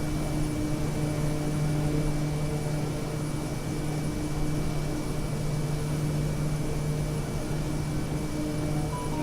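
A steady aircraft engine hum from Microsoft Flight Simulator, a second-hand plane flying over Japan, drones on without a break, with constant tonal whines layered over a broad, even roar.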